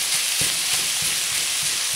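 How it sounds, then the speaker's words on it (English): Onions sizzle steadily in a pan of homemade Italian sauce, with soft scraping thumps from a spoon stirring every few beats, close and continuous with no voices. "We can go ahead and start mixing our onions in with it now."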